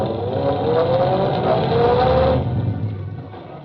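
A car engine revs and accelerates as the driver steps on the gas in an old radio drama, a steady close motor roar with rising tones that then eases off toward the end.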